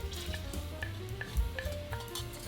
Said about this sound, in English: In a pot, add salted butter and melt on medium heat. Add the garlic